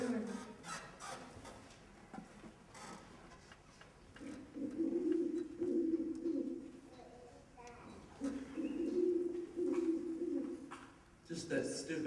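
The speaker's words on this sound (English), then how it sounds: "Just that stupid owl." An owl hoots in soft, low, cooing phrases that repeat in several drawn-out bursts, faint and moderately distant, with quiet talk and background noise between calls.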